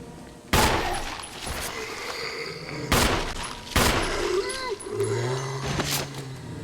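Handgun shots fired at zombies in the Resident Evil REmake video game, with several loud, sharp reports spaced a second or more apart, set among eerie in-game ambience and a low sustained tone near the end.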